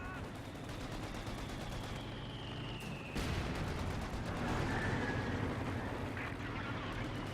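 Sustained MG42 machine gun fire in Company of Heroes 2, a World War II strategy game, rattling steadily through the whole stretch amid battlefield noise, with a louder burst partway through.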